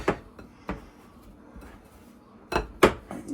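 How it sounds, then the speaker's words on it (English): Metal pastry tool clinking and scraping against a bowl while butter is cut into a coffee cake mixture, a few sharp knocks spaced out with a pair of louder clanks near the end, quiet room otherwise. "So what we're doing is we're just cutting the butter in."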